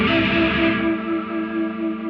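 A JET JS-700 electric guitar played through effects sounds a thick, distorted chord with chorus and echo, ringing and sustaining steadily at close range with no talking.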